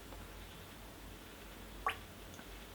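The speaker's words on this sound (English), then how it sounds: "I've added about 6 or 7 drops there" A single small drop of water falls into a glass of Nikka From The Barrel whisky, giving a brief soft plip against a quiet, faint background.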